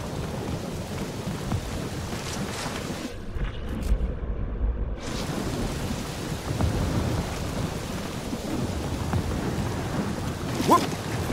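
Steady rain and rolling thunder from a storm in Marvel's Guardians of the Galaxy video game, a continuous dense wash with a deep rumble, briefly dropping out midway before resuming.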